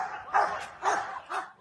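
Police dogs bark at a house during a tense confrontation with officers, three sharp barks in a steady rhythm about half a second apart, close and fairly loud, with no talk.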